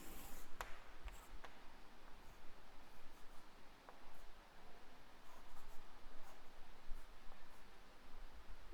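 Pen or marker steadily scratching across paper while drawing a large sun diagram in a classroom lesson, a continuous close rustling stroke sound with brief pauses and no talking.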